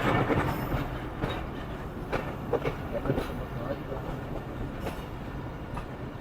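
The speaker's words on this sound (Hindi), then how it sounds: "तो ये हमारी ट्रेन अभी 10 से 15 मिनट तक लाहौर स्टेशन पे पहुंच जाएगी" Awam Express passenger train rolling into Lahore, a steady broadband rumble with rhythmic clacks of wheels over rail joints, heard close from inside the moving coaches; faint voices sit beneath it.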